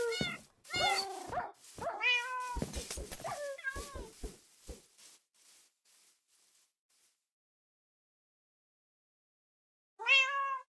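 A tamed cat meows in a video game, several loud, close, distinct calls in quick succession that trail off into quiet, then one more meow at the end; no one talks.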